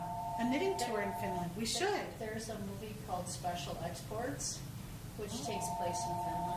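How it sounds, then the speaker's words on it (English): A telephone rings with steady electronic tones at the start and again near the end, sounding under continuous conversation between two people talking about knitting. "Sorry about the phone ringing."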